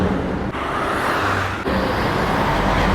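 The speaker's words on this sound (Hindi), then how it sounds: "भाई ये गाड़ी तो अभी रुकी है," A car pulls up and stops at a roadside in Iran, with steady, loud road and engine noise continuing throughout and no talk.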